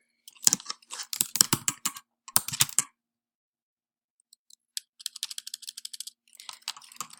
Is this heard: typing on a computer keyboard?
yes